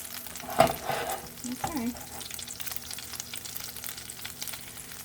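Tuna patties fry in a pan with a steady, soft sizzle, broken early by a couple of sharp clatters as they are set down. A voice speaks briefly.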